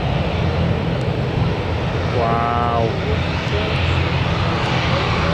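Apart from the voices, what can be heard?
Jet2 aircraft engines at Newcastle Airport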